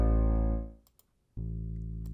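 A sustained bass sample tone fades out, and after a short silence the same bass sample sounds again, pitch-shifted down to an A note, steady and full.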